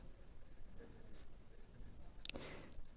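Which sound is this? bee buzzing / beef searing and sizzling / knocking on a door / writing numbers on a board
writing numbers on a board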